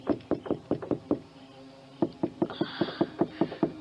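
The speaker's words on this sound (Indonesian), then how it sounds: "Apakah yang mengetuk pintu tadi?" Rapid knocking on a wooden door in two bursts, a quick series of sharp raps, a short pause, then another steady run of knocks, fairly close and clear.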